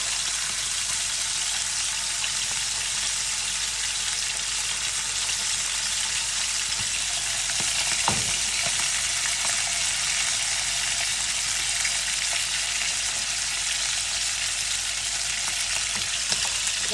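Beef searing hard in a very hot pan, a steady loud sizzle and crackle running throughout with one brief sharper clatter midway, no voices over it.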